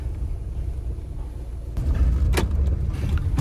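A car rolls up and comes to a stop near a farm gate outside Penukonda, Andhra Pradesh, with a steady low engine rumble that swells midway and a brief clunk before it settles.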